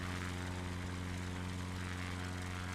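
A camera drone flies over North Queensland bush, its propellers giving a steady, dense buzzing whine with a strong tonal hum, continuous and close, without speech.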